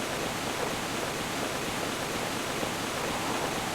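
A steady, broadband rush of water pours without pause from a waterfall in the video game Mizzurna Falls, loud and continuous with no voices over it.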